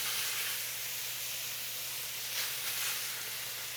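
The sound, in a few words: venison meat sizzling on a hot griddle with butter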